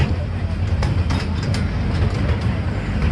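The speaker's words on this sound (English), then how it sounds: "it's quite a nice little train, to be honest" A small park train runs at Drayton Manor, making a continuous rumbling roll with faint clicks and rattles that stays even and fairly close throughout.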